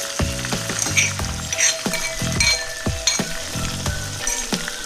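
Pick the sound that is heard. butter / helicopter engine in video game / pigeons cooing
butter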